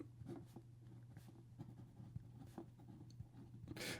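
An Edison Jameson fountain pen with a medium stainless steel number 8 nib scratches softly across paper in short, irregular strokes with light tapping pauses, faint and close in a quiet room.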